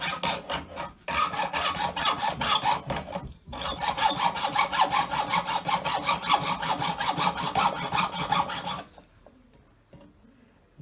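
A hand saw cuts through wood at a workbench in long, fast, even rasping strokes. The close, loud sawing runs nearly nine seconds with two brief pauses, then stops and leaves near silence.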